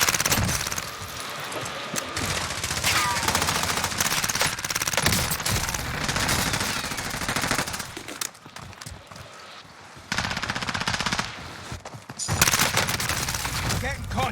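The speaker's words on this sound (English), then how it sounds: "I'm under fire." Dense gunfire from the video game Call of Duty: Warzone, sustained loud bursts and rattling volleys filling most of the stretch, with brief lulls and shifting intensity.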